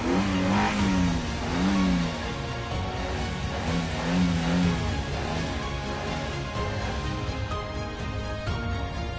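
A car engine revving as a sound effect in a TV promo, rising and falling through a few throttle swells over a music bed, loud and close.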